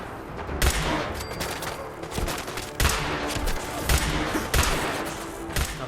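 Gunfire in the Fallout 4 Nuka World game, a fight against a Super Mutant Warlord: a steady stream of sharp shots and bursts with a few louder cracks standing out, loud throughout with no pauses.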